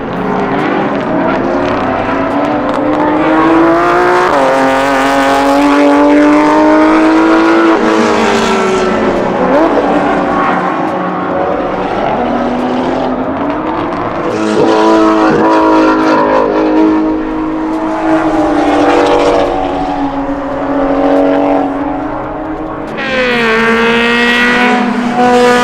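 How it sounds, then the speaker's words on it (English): Race cars at a time attack event roar past one after another, engines revving and shifting loudly up close, with a new car sweeping in near the end and no talking. "really love to see the limited and unlimited cars come through"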